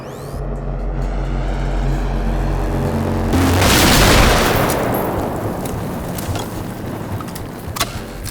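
In the video game Generation Zero, a loud explosion bursts out amid gunfire after a steady humming drone, then rumbles and decays while sharp scattered shots crackle on.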